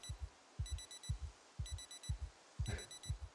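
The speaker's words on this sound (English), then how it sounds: "Someone's alarm is going crazy. Oh, that's my alarm." An alarm clock ringing in the video game Project Zomboid, a repeating pattern of quick electronic beep bursts over low thumping pulses, loud and rhythmic with no talking.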